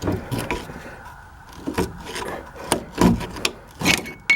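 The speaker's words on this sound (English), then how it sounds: "Take a big heavy duty screwdriver." A big heavy-duty screwdriver scrapes, grinds and levers against metal while prying out a part of a 2006 Saturn transmission, producing loud close rasping strokes and knocks in uneven bursts.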